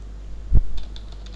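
A single sharp keystroke on a computer keyboard is followed by a few lighter, quick taps, close and clear over a quiet hum.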